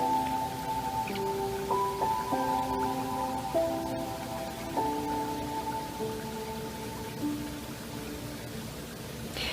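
Rain falls outside as a steady, even hiss that runs throughout, with soft sustained musical tones playing over it.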